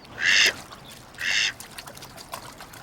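Two loud cartoon duck quacks, each about a quarter second long, in an animated show. A faint third quack follows near the end, over quiet background.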